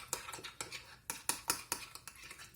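A spoon stirring a spoonful and a half of mayonnaise in a bowl to thin it, with a series of close, light clinks and scrapes in an uneven rhythm.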